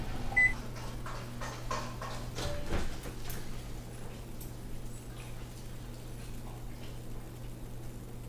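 An oven timer being set to 20 minutes, with a couple of faint electronic beeps and light clicks near the start over a steady low kitchen hum.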